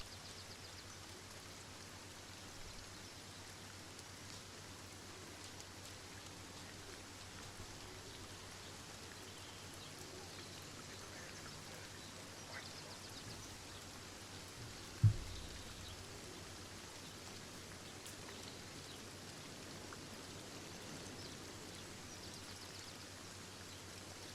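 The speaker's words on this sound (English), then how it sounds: "the rain's come again and it's knocked the bites off" Steady rain hiss in the fishing game Euro Fishing, a continuous wash of falling rain that stays even and moderately quiet throughout, with one brief soft knock partway through.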